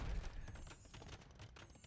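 A bombard cannon fires in an Age of Empires II battle, its booming shots landing amid a dense, continuous clatter of game combat noise.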